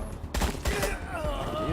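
Gunfire in the Wasteland 3 video game: a few sharp, loud shots in quick succession, ringing out over a rumbling combat background with no speech over them.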